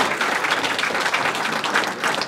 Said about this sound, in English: I wanna give a round of applause to you guys